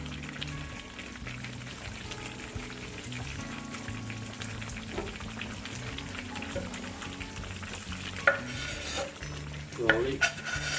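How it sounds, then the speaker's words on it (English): Ginger, garlic and green chili sizzle and crackle steadily in a hot pan for a chicken karahi, with stirring scrapes and a few louder clanks near the end. "we're gonna put the ginger and garlic in here"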